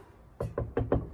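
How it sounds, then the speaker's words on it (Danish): Four firm knocks on a door, evenly spaced and close by, with no talk over them. "Skal vi banke på?"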